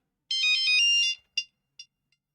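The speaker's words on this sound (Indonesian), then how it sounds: "Oke, sebentar ada telepon." A phone ringtone starts up with a bright, warbling electronic melody that lasts about a second. Three shorter, fading bursts follow, heard close and alone with no talking.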